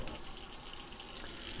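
Water runs steadily into a cooking pot for chicken and dumplings, a continuous close gush filling the pot at an even level throughout.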